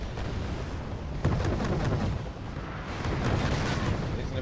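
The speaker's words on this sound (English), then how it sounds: "He's going to be taking some autocannon fire, an AA fire from the Sopel." Autocannon and anti-aircraft fire in the Wargame Red Dragon video game roar as a dense, continuous barrage of booms and rattling shots, loud and steady throughout with no gaps.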